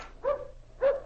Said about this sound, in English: The dogs are acting up.